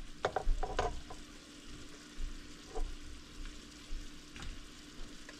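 Peppers and onions fry in a pan as part of a Spam ramen stir fry, sizzling steadily at close range. Sharp metallic scrapes and clinks of stirring come early, followed by softer stirring bumps.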